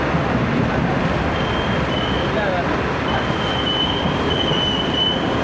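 A Pakistani Greenline express train runs steadily on its rails, with a continuous close rumble of wheels and carriage noise and a thin metallic squeal drifting above the din throughout.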